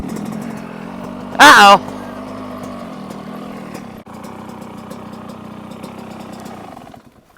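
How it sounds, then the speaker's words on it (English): A motorcycle engine holds a steady mid-pitched drone while the rider pulls a third gear wheelie, continuous and fairly loud under a brief spoken exclamation. "So here we're gonna do a third gear wheelie."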